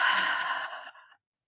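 A single long exhale through the mouth during a guided morning breathing exercise, a soft airy sigh lasting about a second that fades out into silence, heard alone without talk.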